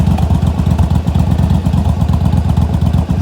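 A motorcycle with a repaired starter runs steadily on a short low-speed test ride down the street and around a parking lot, its loud engine throbbing in an even rhythm close by, with no talk.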